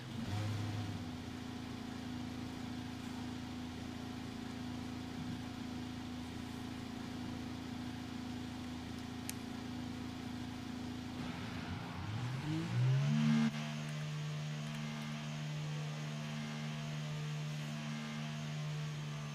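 Racing car engines running in a race broadcast: a steady mid-pitched engine drone holds for several seconds, then rises sharply in a rev around the twelve-second mark and settles into a higher sustained tone, loud and continuous.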